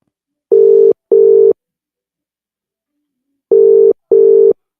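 An outgoing telephone call rings out with two double-pulse ringback tones, each a pair of steady buzzing bursts separated by a few seconds of silence, clear and loud with no speech.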